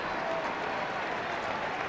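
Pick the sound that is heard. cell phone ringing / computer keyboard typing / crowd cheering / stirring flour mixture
crowd cheering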